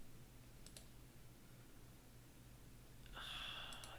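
Faint, sparse computer mouse clicks on an online article, one short burst early and a brighter cluster near the end, heard over a low steady room hum with no talking.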